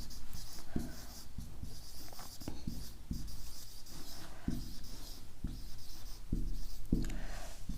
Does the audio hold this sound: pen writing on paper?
yes